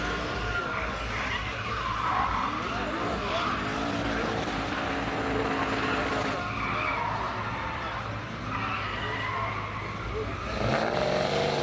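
Race car skidding and squealing its tyres around a track during a Danish mixed-class racing event, engine roaring steadily and loud throughout with repeated slides, close to the listener.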